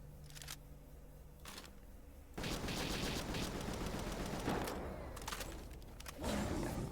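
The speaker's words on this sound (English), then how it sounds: "we also have a decently powerful gun, which I'm going to reload before opening fire" Gunfire from a powerful gun in the video game Palworld, with a couple of brief sharp bursts early on, then a sustained loud barrage of shots with further bursts near the end.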